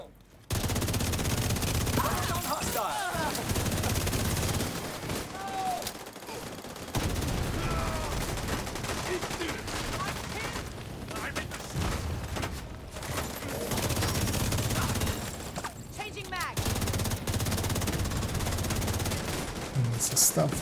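Enemy gunfire in a video game crackles in repeated rapid bursts and volleys across the whole stretch, steady and dense, with a voice speaking between them.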